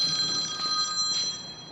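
A telephone rings in a North Texas garage with a steady electronic trill of sustained tones through the brief moment, moderately loud.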